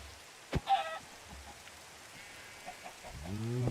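Minecraft chicken sounds in a Skyblock game: a sharp hit, then a short clucking burst, faint scattered game noises, and a rising, layered squawk at the end, all fairly quiet with no talk.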